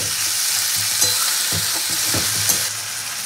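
Rice fries in a pan with a loud, continuous hiss and crackle. Soft stirring thumps and scrapes come through now and then, and no one speaks.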